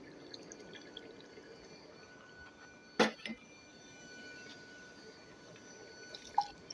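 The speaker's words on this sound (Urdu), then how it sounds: "تھوڑا سا پانی کا چھینٹا لگاؤں گی میں اس سے" A splash of water hits beef nehari masala frying over a high flame, making one brief, sharp hiss-splash with a smaller spatter after it, over a quiet background.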